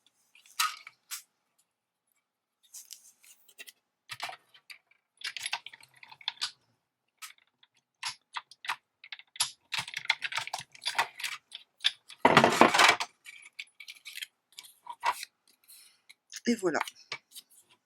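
Scissors snip through paper while a punch template is trimmed, a series of sharp, close cuts in irregular clusters with pauses between them and a few brief spoken words.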